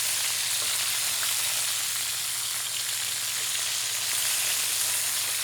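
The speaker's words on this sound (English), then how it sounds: "And we just want to brown this very lightly on all sides." Chicken pieces sear and brown lightly in a hot pan, a constant bright sizzle with a faint low hum beneath, steady and close, no talking.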